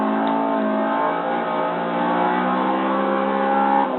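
Race cars in Forza Motorsport 6 on Xbox One roar steadily at close range, their engines droning and revving in layered, sustained tones with no talk over them.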